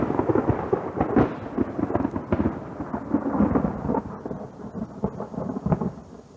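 Thunder rumbles and cracks repeatedly through a thunderstorm, loud and close, with uneven bursts over a background of falling rain and no voices.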